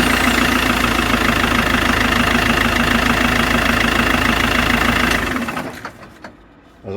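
A diesel engine in an Iveco Daily van runs loud and steady at idle after its starter motor was swapped, with a rough knocking beat throughout, then cuts off and quietly dies away near the end.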